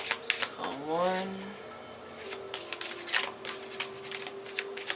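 Tarot cards are shuffled in quick riffling bursts, close and crisp, while someone talks over part of it.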